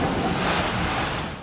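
Furious hurricane winds roar with rushing flood water in Jamaica, a dense, steady broadband wash that stays loud throughout before easing slightly at the end.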